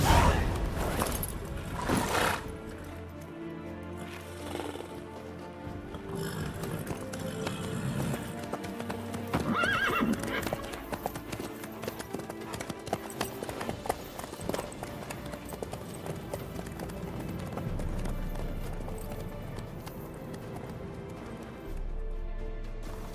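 A horse gallops in The Witcher 3 video game, with rhythmic clip-clop hoofbeats running continuously over ambient game sound and a brief whinny-like burst near the start.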